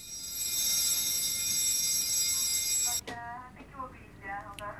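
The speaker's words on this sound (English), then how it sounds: "Unknown to the men, they triggered an alarm." An automatic intruder alarm at a football club social club rings loud and steady for about three seconds, a continuous electronic bell tone that stops abruptly before a short stretch of speech.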